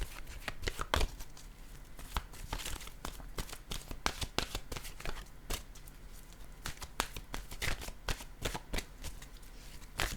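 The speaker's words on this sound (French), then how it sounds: "Je vais choisir une carte de mon oracle" A deck of oracle cards is shuffled at close range, a steady papery riffle and slide with sharp flicks and taps repeating irregularly, quiet and alone with no voice.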